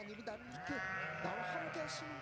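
Sheep bleat in wavering cries, overlapping with a voice that speaks at the same time, in a church kindergarten setting.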